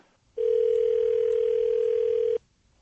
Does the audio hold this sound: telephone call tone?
yes